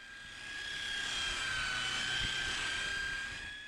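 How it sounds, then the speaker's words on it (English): A cheap Harbor Freight polisher runs on a car's clear coat, giving a steady, close, continuous whine with a high tonal hum that swells slightly and then eases, with no voices. "So we are working with this cheap Harbor Freight polisher."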